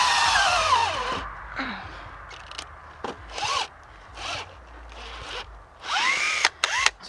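A power drill revs in several short bursts while boring a tap hole into a tree, its whirring spurts separated by brief pauses and light handling scrapes, close and moderately loud.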